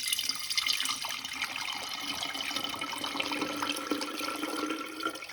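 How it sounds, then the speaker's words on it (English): Limoncello alcohol drains off lemon zest in a continuous, splashing liquid pour that runs steadily for several seconds, close and clear. "Now I'm going to drain the alcohol."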